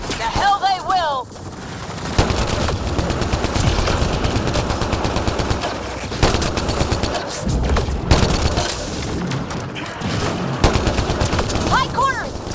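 Rapid automatic gunfire rattles almost continuously through a firefight in Mass Effect Andromeda, loud and dense with sharper bursts, while voices shout briefly near the start and end.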